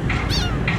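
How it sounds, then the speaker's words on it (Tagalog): Kittens in Manila give a few short, high meows, close and clear, two or three cries within under a second. "Ayan, cute yung mga kuting dun."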